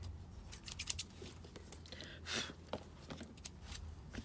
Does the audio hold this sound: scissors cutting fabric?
yes